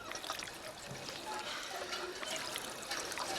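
Water being collected in Fallout 4, a faint continuous trickle and pour of liquid with low, indistinct speech underneath.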